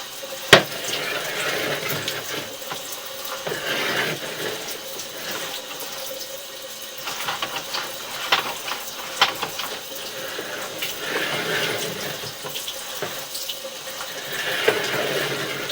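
Running water flushing solids down a sewer line at a house, a continuous gushing flow like a tap filling a basin, punctuated by occasional sharp knocks and clicks, moderately loud and steady.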